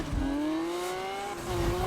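A Lamborghini engine in Need for Speed 2015, holding a steady high whine that climbs slowly as the car accelerates, loud and close, with a touch of rumble at the start and end.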